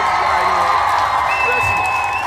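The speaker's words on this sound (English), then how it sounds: "Let's give them a round of applause." A group applauds at a toastmaster-style meeting, with a continuous mix of clapping and crowd noise, some cheering and a whoop. A sustained whistle-like tone rises over it partway through.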